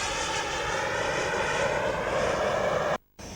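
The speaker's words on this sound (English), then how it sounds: "Here comes a nice low pass." A model airplane engine drones loud and steady during a low, slow pass with gear down at a Scottish model airshow, holding an even pitch before cutting out abruptly near the end.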